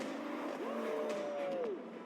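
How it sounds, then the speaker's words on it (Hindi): Lamborghini engine rising as the car accelerates, a revving whine climbing in pitch and then falling off, heard from inside the car at moderate level. "जरा इंजन की आवाज तो सुनो"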